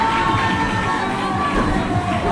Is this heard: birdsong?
no